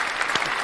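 A short burst of applause rings out for interview guest Paul DeBerry, close and dense, lasting under a second.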